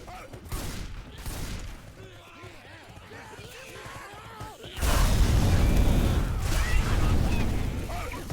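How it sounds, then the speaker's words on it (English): Gunfire and exploding barrels in the zombie shooter Left 4 Dead 2, during a competitive match. Rapid bursts of shots come first, then a loud, sustained eruption of blasts and crackling, with speech over the top. "So shooting the barrels behind, creating a firewall there"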